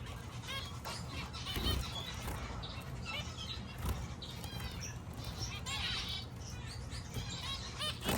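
Exotic finches chirp inside a flight cage, a busy overlapping chorus of quick high tweets and calls, fairly close, with faint indistinct murmuring in the background.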